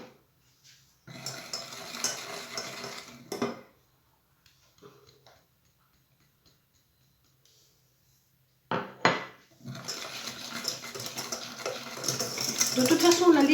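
A utensil scrapes and clinks around a bowl while a fruit tart filling with cornstarch is stirred, two close bursts of mixing separated by a near-silent pause.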